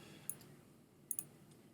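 Mouse clicks placing selection points in Photoshop: three or four quiet, crisp clicks, one early and a quick pair about a second later, over faint room hiss.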